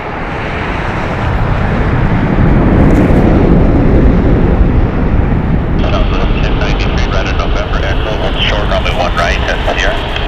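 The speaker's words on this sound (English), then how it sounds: "Alright, Delta's taking off, followed by Southwest" A Delta airliner taking off at Las Vegas Harry Reid International Airport, a loud steady jet roar with heavy wind buffeting that holds throughout, while someone talks over it.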